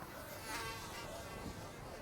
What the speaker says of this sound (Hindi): साला बहुत मच्छर है इधर तो